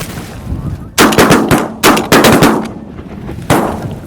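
Shotguns fire during a hunt, several loud, sharp blasts in quick succession, some close together and others a second or more apart, echoing outdoors.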